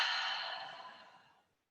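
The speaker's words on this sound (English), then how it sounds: "definitely with deep breaths" A long, deep exhale during a slow yoga hip-opening stretch, soft and breathy, fading steadily over under two seconds, alone and close.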